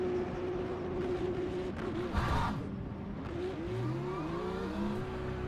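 Several race cars idle and rev through a formation lap in the racing game Le Mans Ultimate at Bahrain, a BMW-heavy field, with engine tones rising and falling and a brief burst of louder noise midway.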